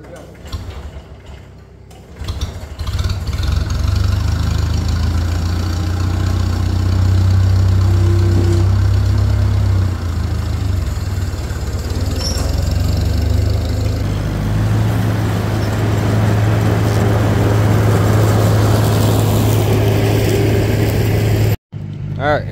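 A small engine runs steadily after being fuelled, a droning idle that rises and holds with some ticking and rattle, loud and close, before stopping abruptly near the end.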